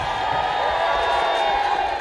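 A crowd gathered in York for a royal visit marking city status, a steady, dense murmur of many voices and distant cheering, continuous and fairly loud throughout.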